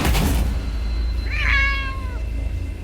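A small black cat gives a single clear, rising-and-falling meow in the middle, close and distinct over low background rumble.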